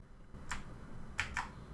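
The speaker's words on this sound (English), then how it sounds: "press Ctrl+A key on your keyboard" Keys pressed on a computer keyboard for the Ctrl+A shortcut: one sharp click, then two quick clicks close together, near and crisp over a faint hum.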